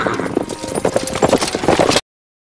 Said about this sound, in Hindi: मैं घोड़ा लेकर जा रही हूँ